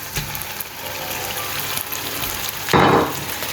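Prawns and potatoes fry in a pan for a prawn chilli fry, giving a steady close sizzle that flares into a louder hiss near the end, with no talking.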